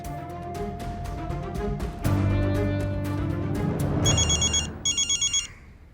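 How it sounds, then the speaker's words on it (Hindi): A telephone rings near the end in short, bright, evenly pulsed bursts, after a stretch of dramatic background music. "तुम फोन लगाओ देव के बाबा को।"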